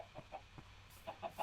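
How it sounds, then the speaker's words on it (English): A Minecraft chicken clucks in a short series of soft, quick bursts, fairly faint and isolated with no talk over it. "there's already a chicken in it"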